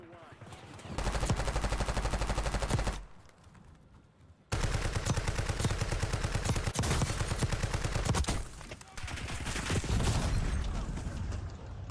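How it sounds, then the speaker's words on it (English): Sustained automatic gunfire from the video game Call of Duty Warzone, dense rapid bursts that are loud and close, breaking off briefly after about three seconds before resuming in long continuous volleys. "we were shooting at the bot, and there's a real guy running right behind us"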